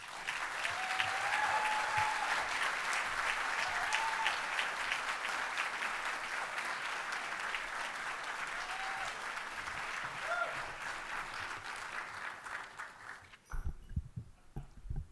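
Sustained audience applause at an evening spring celebration event, a dense steady clapping from a large crowd over a dozen seconds, fading out abruptly near the end with a few thumps.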